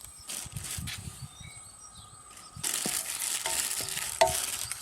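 Whole spices such as cinnamon stick, cloves, peppercorns, coriander, cumin, anise and poppy seeds dry-roasting in a hot pan, with a soft steady sizzle and crackle that grows louder partway through, plus faint stirring scrapes and no talk.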